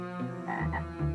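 A toad croaks in a short run of low, throaty, buzzing calls, close and clear, with no talk over it.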